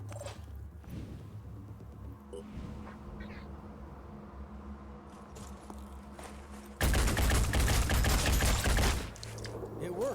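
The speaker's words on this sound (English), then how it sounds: "It's also a shotgun pistol" A shotgun pistol fires in the game Phoenix Point, a sudden loud blast of gunfire lasting about two seconds that breaks through a quiet, low ambient background.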